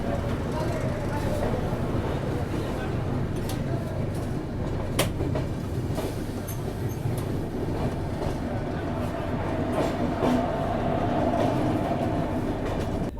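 The Vivek Express passenger train rolls steadily on rails, a continuous loud rumble with rhythmic wheel clatter and occasional sharp clacks, heard from inside a coach with faint voices in the background.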